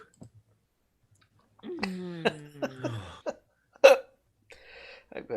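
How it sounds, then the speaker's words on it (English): Several hiccups pop out one after another amid breathy laughter and chuckles during a podcast chat, close and clear, with a louder sharp hiccup near the end. "I got the hiccups."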